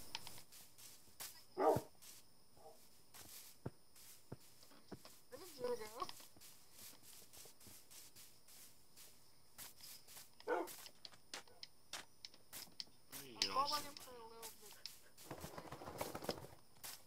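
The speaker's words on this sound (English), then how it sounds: "Another wild dog. No, wait, that's the same dog. Oh, there's two dogs." Dogs in the Minecraft video game give a few short, separate barks and yips scattered through the stretch, fairly faint, mixed with footstep-like clicks while a person talks over them.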